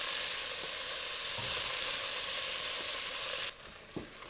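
Stew meat browning in oil in a hot pan, a dense, constant close sizzle that drops away abruptly near the end, with a couple of soft knocks and no talking.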